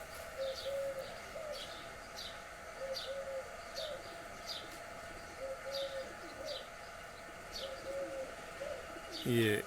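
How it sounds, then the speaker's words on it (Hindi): Birds nesting in the trees around a home, with soft repeated cooing of doves and occasional chirps at a steady, unhurried rhythm, moderately distant over a quiet background hum. "इन पेड़ों में काफ़ी पक्षियों ने अपने घोंसले बनाए हुए हैं रहने के लिए"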